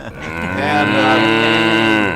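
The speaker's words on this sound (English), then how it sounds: "there is a cow involved" A cow moos in one long, loud, sustained call lasting about two seconds, close and clear, with no talking over it.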